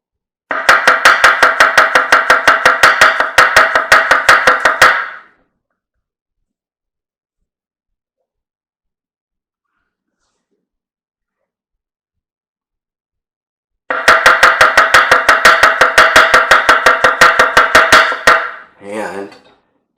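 Rapid, evenly spaced knife strokes chop through mushrooms on a cutting board, close and loud, in two bursts of steady slicing with a long silent gap between them.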